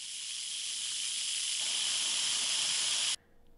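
A steady, loud hiss of steam jets from an Instant Pot's pressure valve after cooking sweet potatoes and grains, holding constant for about three seconds before cutting off abruptly into quiet.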